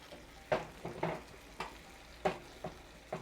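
Shrimp cooking in a hot pan with a splash of white wine reducing, a steady low sizzle broken by several sharp clinks and scrapes of stirring, close and without talk.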